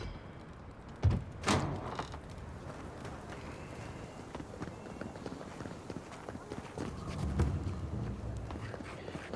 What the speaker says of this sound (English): Unbar the door.